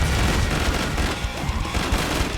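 Rapid submachine-gun fire from the Chris SMG in Killing Floor 2, a dense, continuous rattle of shots packed with low booms and busy game noise throughout, with no gaps.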